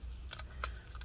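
A blade slicing through the adhesive inside a Tile Slim tracker during a teardown: two short, faint, crisp scraping cuts, close up, over a quiet background.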